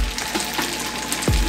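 Cabbage hits a hot frying pan and sizzles steadily, a dense loud crackle throughout, with a brief clunk of a utensil or pan near the end.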